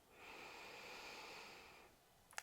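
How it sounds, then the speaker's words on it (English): A slow, soft exhale through the nose or mouth during a morning hypopressive breathing exercise, a steady breathy hiss lasting about two seconds, close and quiet, ending with a small click. "Nice slow exhale."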